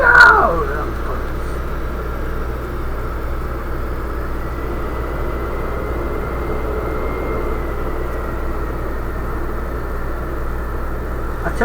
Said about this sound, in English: this is a big damn aircraft right here